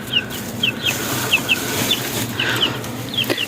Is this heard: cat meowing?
no